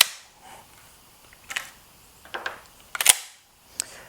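A shotgun bolt closes through an oversized Terran Tactical bolt release button on a 3-gun competition shotgun, giving a few sharp, close metallic clicks and clacks, with the loudest snap near the end.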